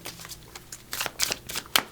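Quick riffling and slapping of a deck of oracle cards being shuffled by hand, close and fairly quiet, in irregular bursts with no talking.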